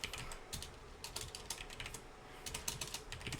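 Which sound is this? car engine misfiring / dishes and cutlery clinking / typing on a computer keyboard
typing on a computer keyboard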